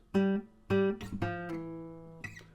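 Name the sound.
muted plucked note on acoustic guitar, 5th fret D string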